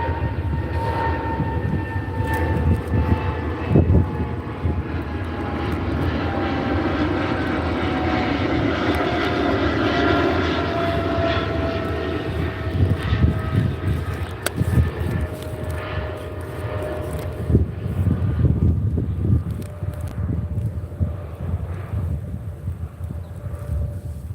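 A propeller airplane drones overhead for the whole stretch, a steady broad roar with a slowly falling engine tone as it passes, loud and unbroken, with scattered outdoor rustling beneath.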